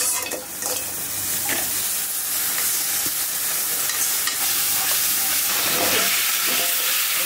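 Food sizzling and frying in a pan as it is stirred in a home kitchen, a steady loud hiss with scraping stir strokes throughout, no talk.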